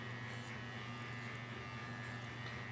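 A faint, steady electric buzz from an electric razor clipping an adult cat's fur, holding an even drone without breaks for the whole stretch.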